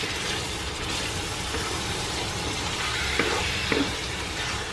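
Butter frying in a pan with a soaked, sauced ingredient gives a steady close sizzle, broken by a couple of small pops near the end.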